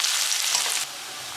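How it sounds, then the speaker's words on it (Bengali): Onions fry in hot oil with garam masala, cardamom and cloves, a close bright sizzle with stirring that drops to a softer hiss after a moment. "এই যে পেঁয়াজ তেলে উপরে ভেজে নিচ্ছে, গরম মশলা, এলাচ দিছ, লং সব দিছে, ভুনা করে নিচ্ছে"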